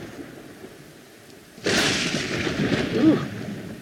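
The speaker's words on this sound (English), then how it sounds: "Hope you're not on fire because the lightning strikes." A lightning strike in the prehistoric survival game Dawn of Man, a sudden loud crack that rolls into a rumbling thunder boom and stays heavy and sustained.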